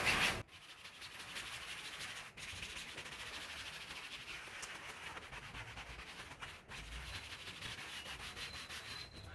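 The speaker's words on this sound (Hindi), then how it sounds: "इसके बाद हम इसे दूसरी साइड से रब करेंगे" Leather car seat being rubbed with a homemade cleaner, a steady close scrubbing swish that runs continuously with a few brief pauses, fairly quiet and alone.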